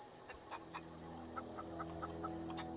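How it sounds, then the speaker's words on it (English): A chicken in the game The Outer Worlds clucks in a short series of quick, soft calls over a quiet ambient hum, with no talking. "It's a chicken."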